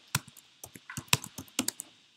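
Computer keyboard typing while code is written, about a dozen close, crisp key clicks in quick irregular bursts with short pauses and no voice over them.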